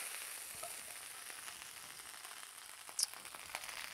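Ribeye steak sizzling in a frying pan, a steady close hiss of frying fat throughout with a brief pop near the end, no voices.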